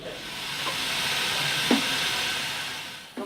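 A continuous hiss of steam puffing onto rhea feathers in a Paris feather workshop, a close, steady rushing sound with a couple of faint clicks and no voices.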